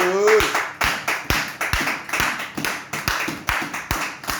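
A church congregation claps together in a steady, even rhythm to acclaim the word of God, the sharp hand-claps close and lively, with a brief voice at the very start.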